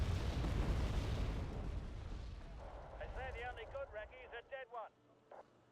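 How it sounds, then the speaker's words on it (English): Artillery shells land with a dense, rumbling barrage in Wargame: AirLand Battle, loud at first and fading over a few seconds, then giving way to someone talking. "maybe the artillery coming in will stun them"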